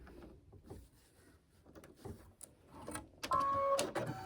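Embroidery machine stitching a unicorn design in black thread, a steady mechanical whir with rattling needle taps that swells louder near the end, with no talking.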